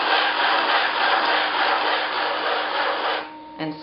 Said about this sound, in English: take my wooden rib